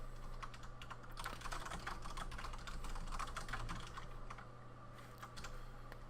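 Continuous rapid typing on a computer keyboard, a dense stream of close, crisp key clicks at a brisk steady pace over a faint background hum, with no talking.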